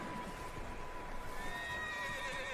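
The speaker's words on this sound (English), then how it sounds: "These horses is going crazy, y'all." Agitated horses whinny and neigh in a long, wavering call that rises and falls, fairly close and clear over faint hoof clatter and low background noise.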